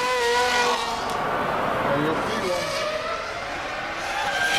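A 2000-season Ferrari Formula One car screams through a qualifying lap, its high-pitched engine climbing and dropping through gear changes, loud and close throughout.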